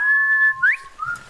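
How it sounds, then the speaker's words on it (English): A person whistles to call a horse in a video game, giving a long steady whistle and then a short rising whistle followed by a brief lower one, clear and close. "the up on the D-pad for whistling, you can control like the length of it"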